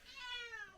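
A cat gives a single short, clear meow, close and fairly quiet.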